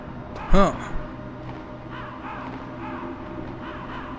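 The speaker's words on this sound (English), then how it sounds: "Crows? No. Ravens." Ravens in the Metal Gear video game give one loud, close caw, followed by fainter, more distant calls repeating over steady background ambience.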